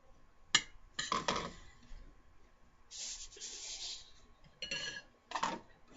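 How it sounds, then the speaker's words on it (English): Brown sugar broken up and mixed with white sugar in a bowl, with scattered clinks and scraping strokes of a utensil against the bowl, close and fairly quiet. "I'm going to break up that brown sugar."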